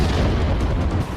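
Explosion near a CRPF school wall in Prashant Vihar, Rohini, Delhi, heard as a dense, loud low rumble filling the whole short moment with no voices.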